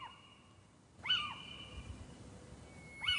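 A little owl calls in an old quarry, giving sharp rising-and-falling whistled notes, one faint, then a clear pair close by and another starting at the end, over low background rumble.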